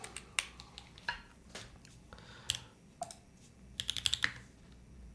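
Keys clack on a Singa Kohaku mechanical keyboard: scattered single strokes, then a quick burst of several presses, close and fairly quiet against a faint background hum.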